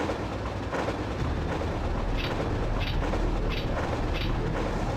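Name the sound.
train running in Resident Evil 3 video game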